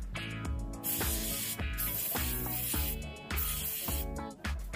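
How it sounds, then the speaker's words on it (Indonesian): Contact cleaner is sprayed onto the electrical socket of a Peugeot Django scooter in several short hissing bursts, close to the mic and quite faint, with a rhythmic backing sound running underneath. "kemudian kita semprotkan kembali dengan menggunakan kontak cleaner hingga bagian ini benar-benar"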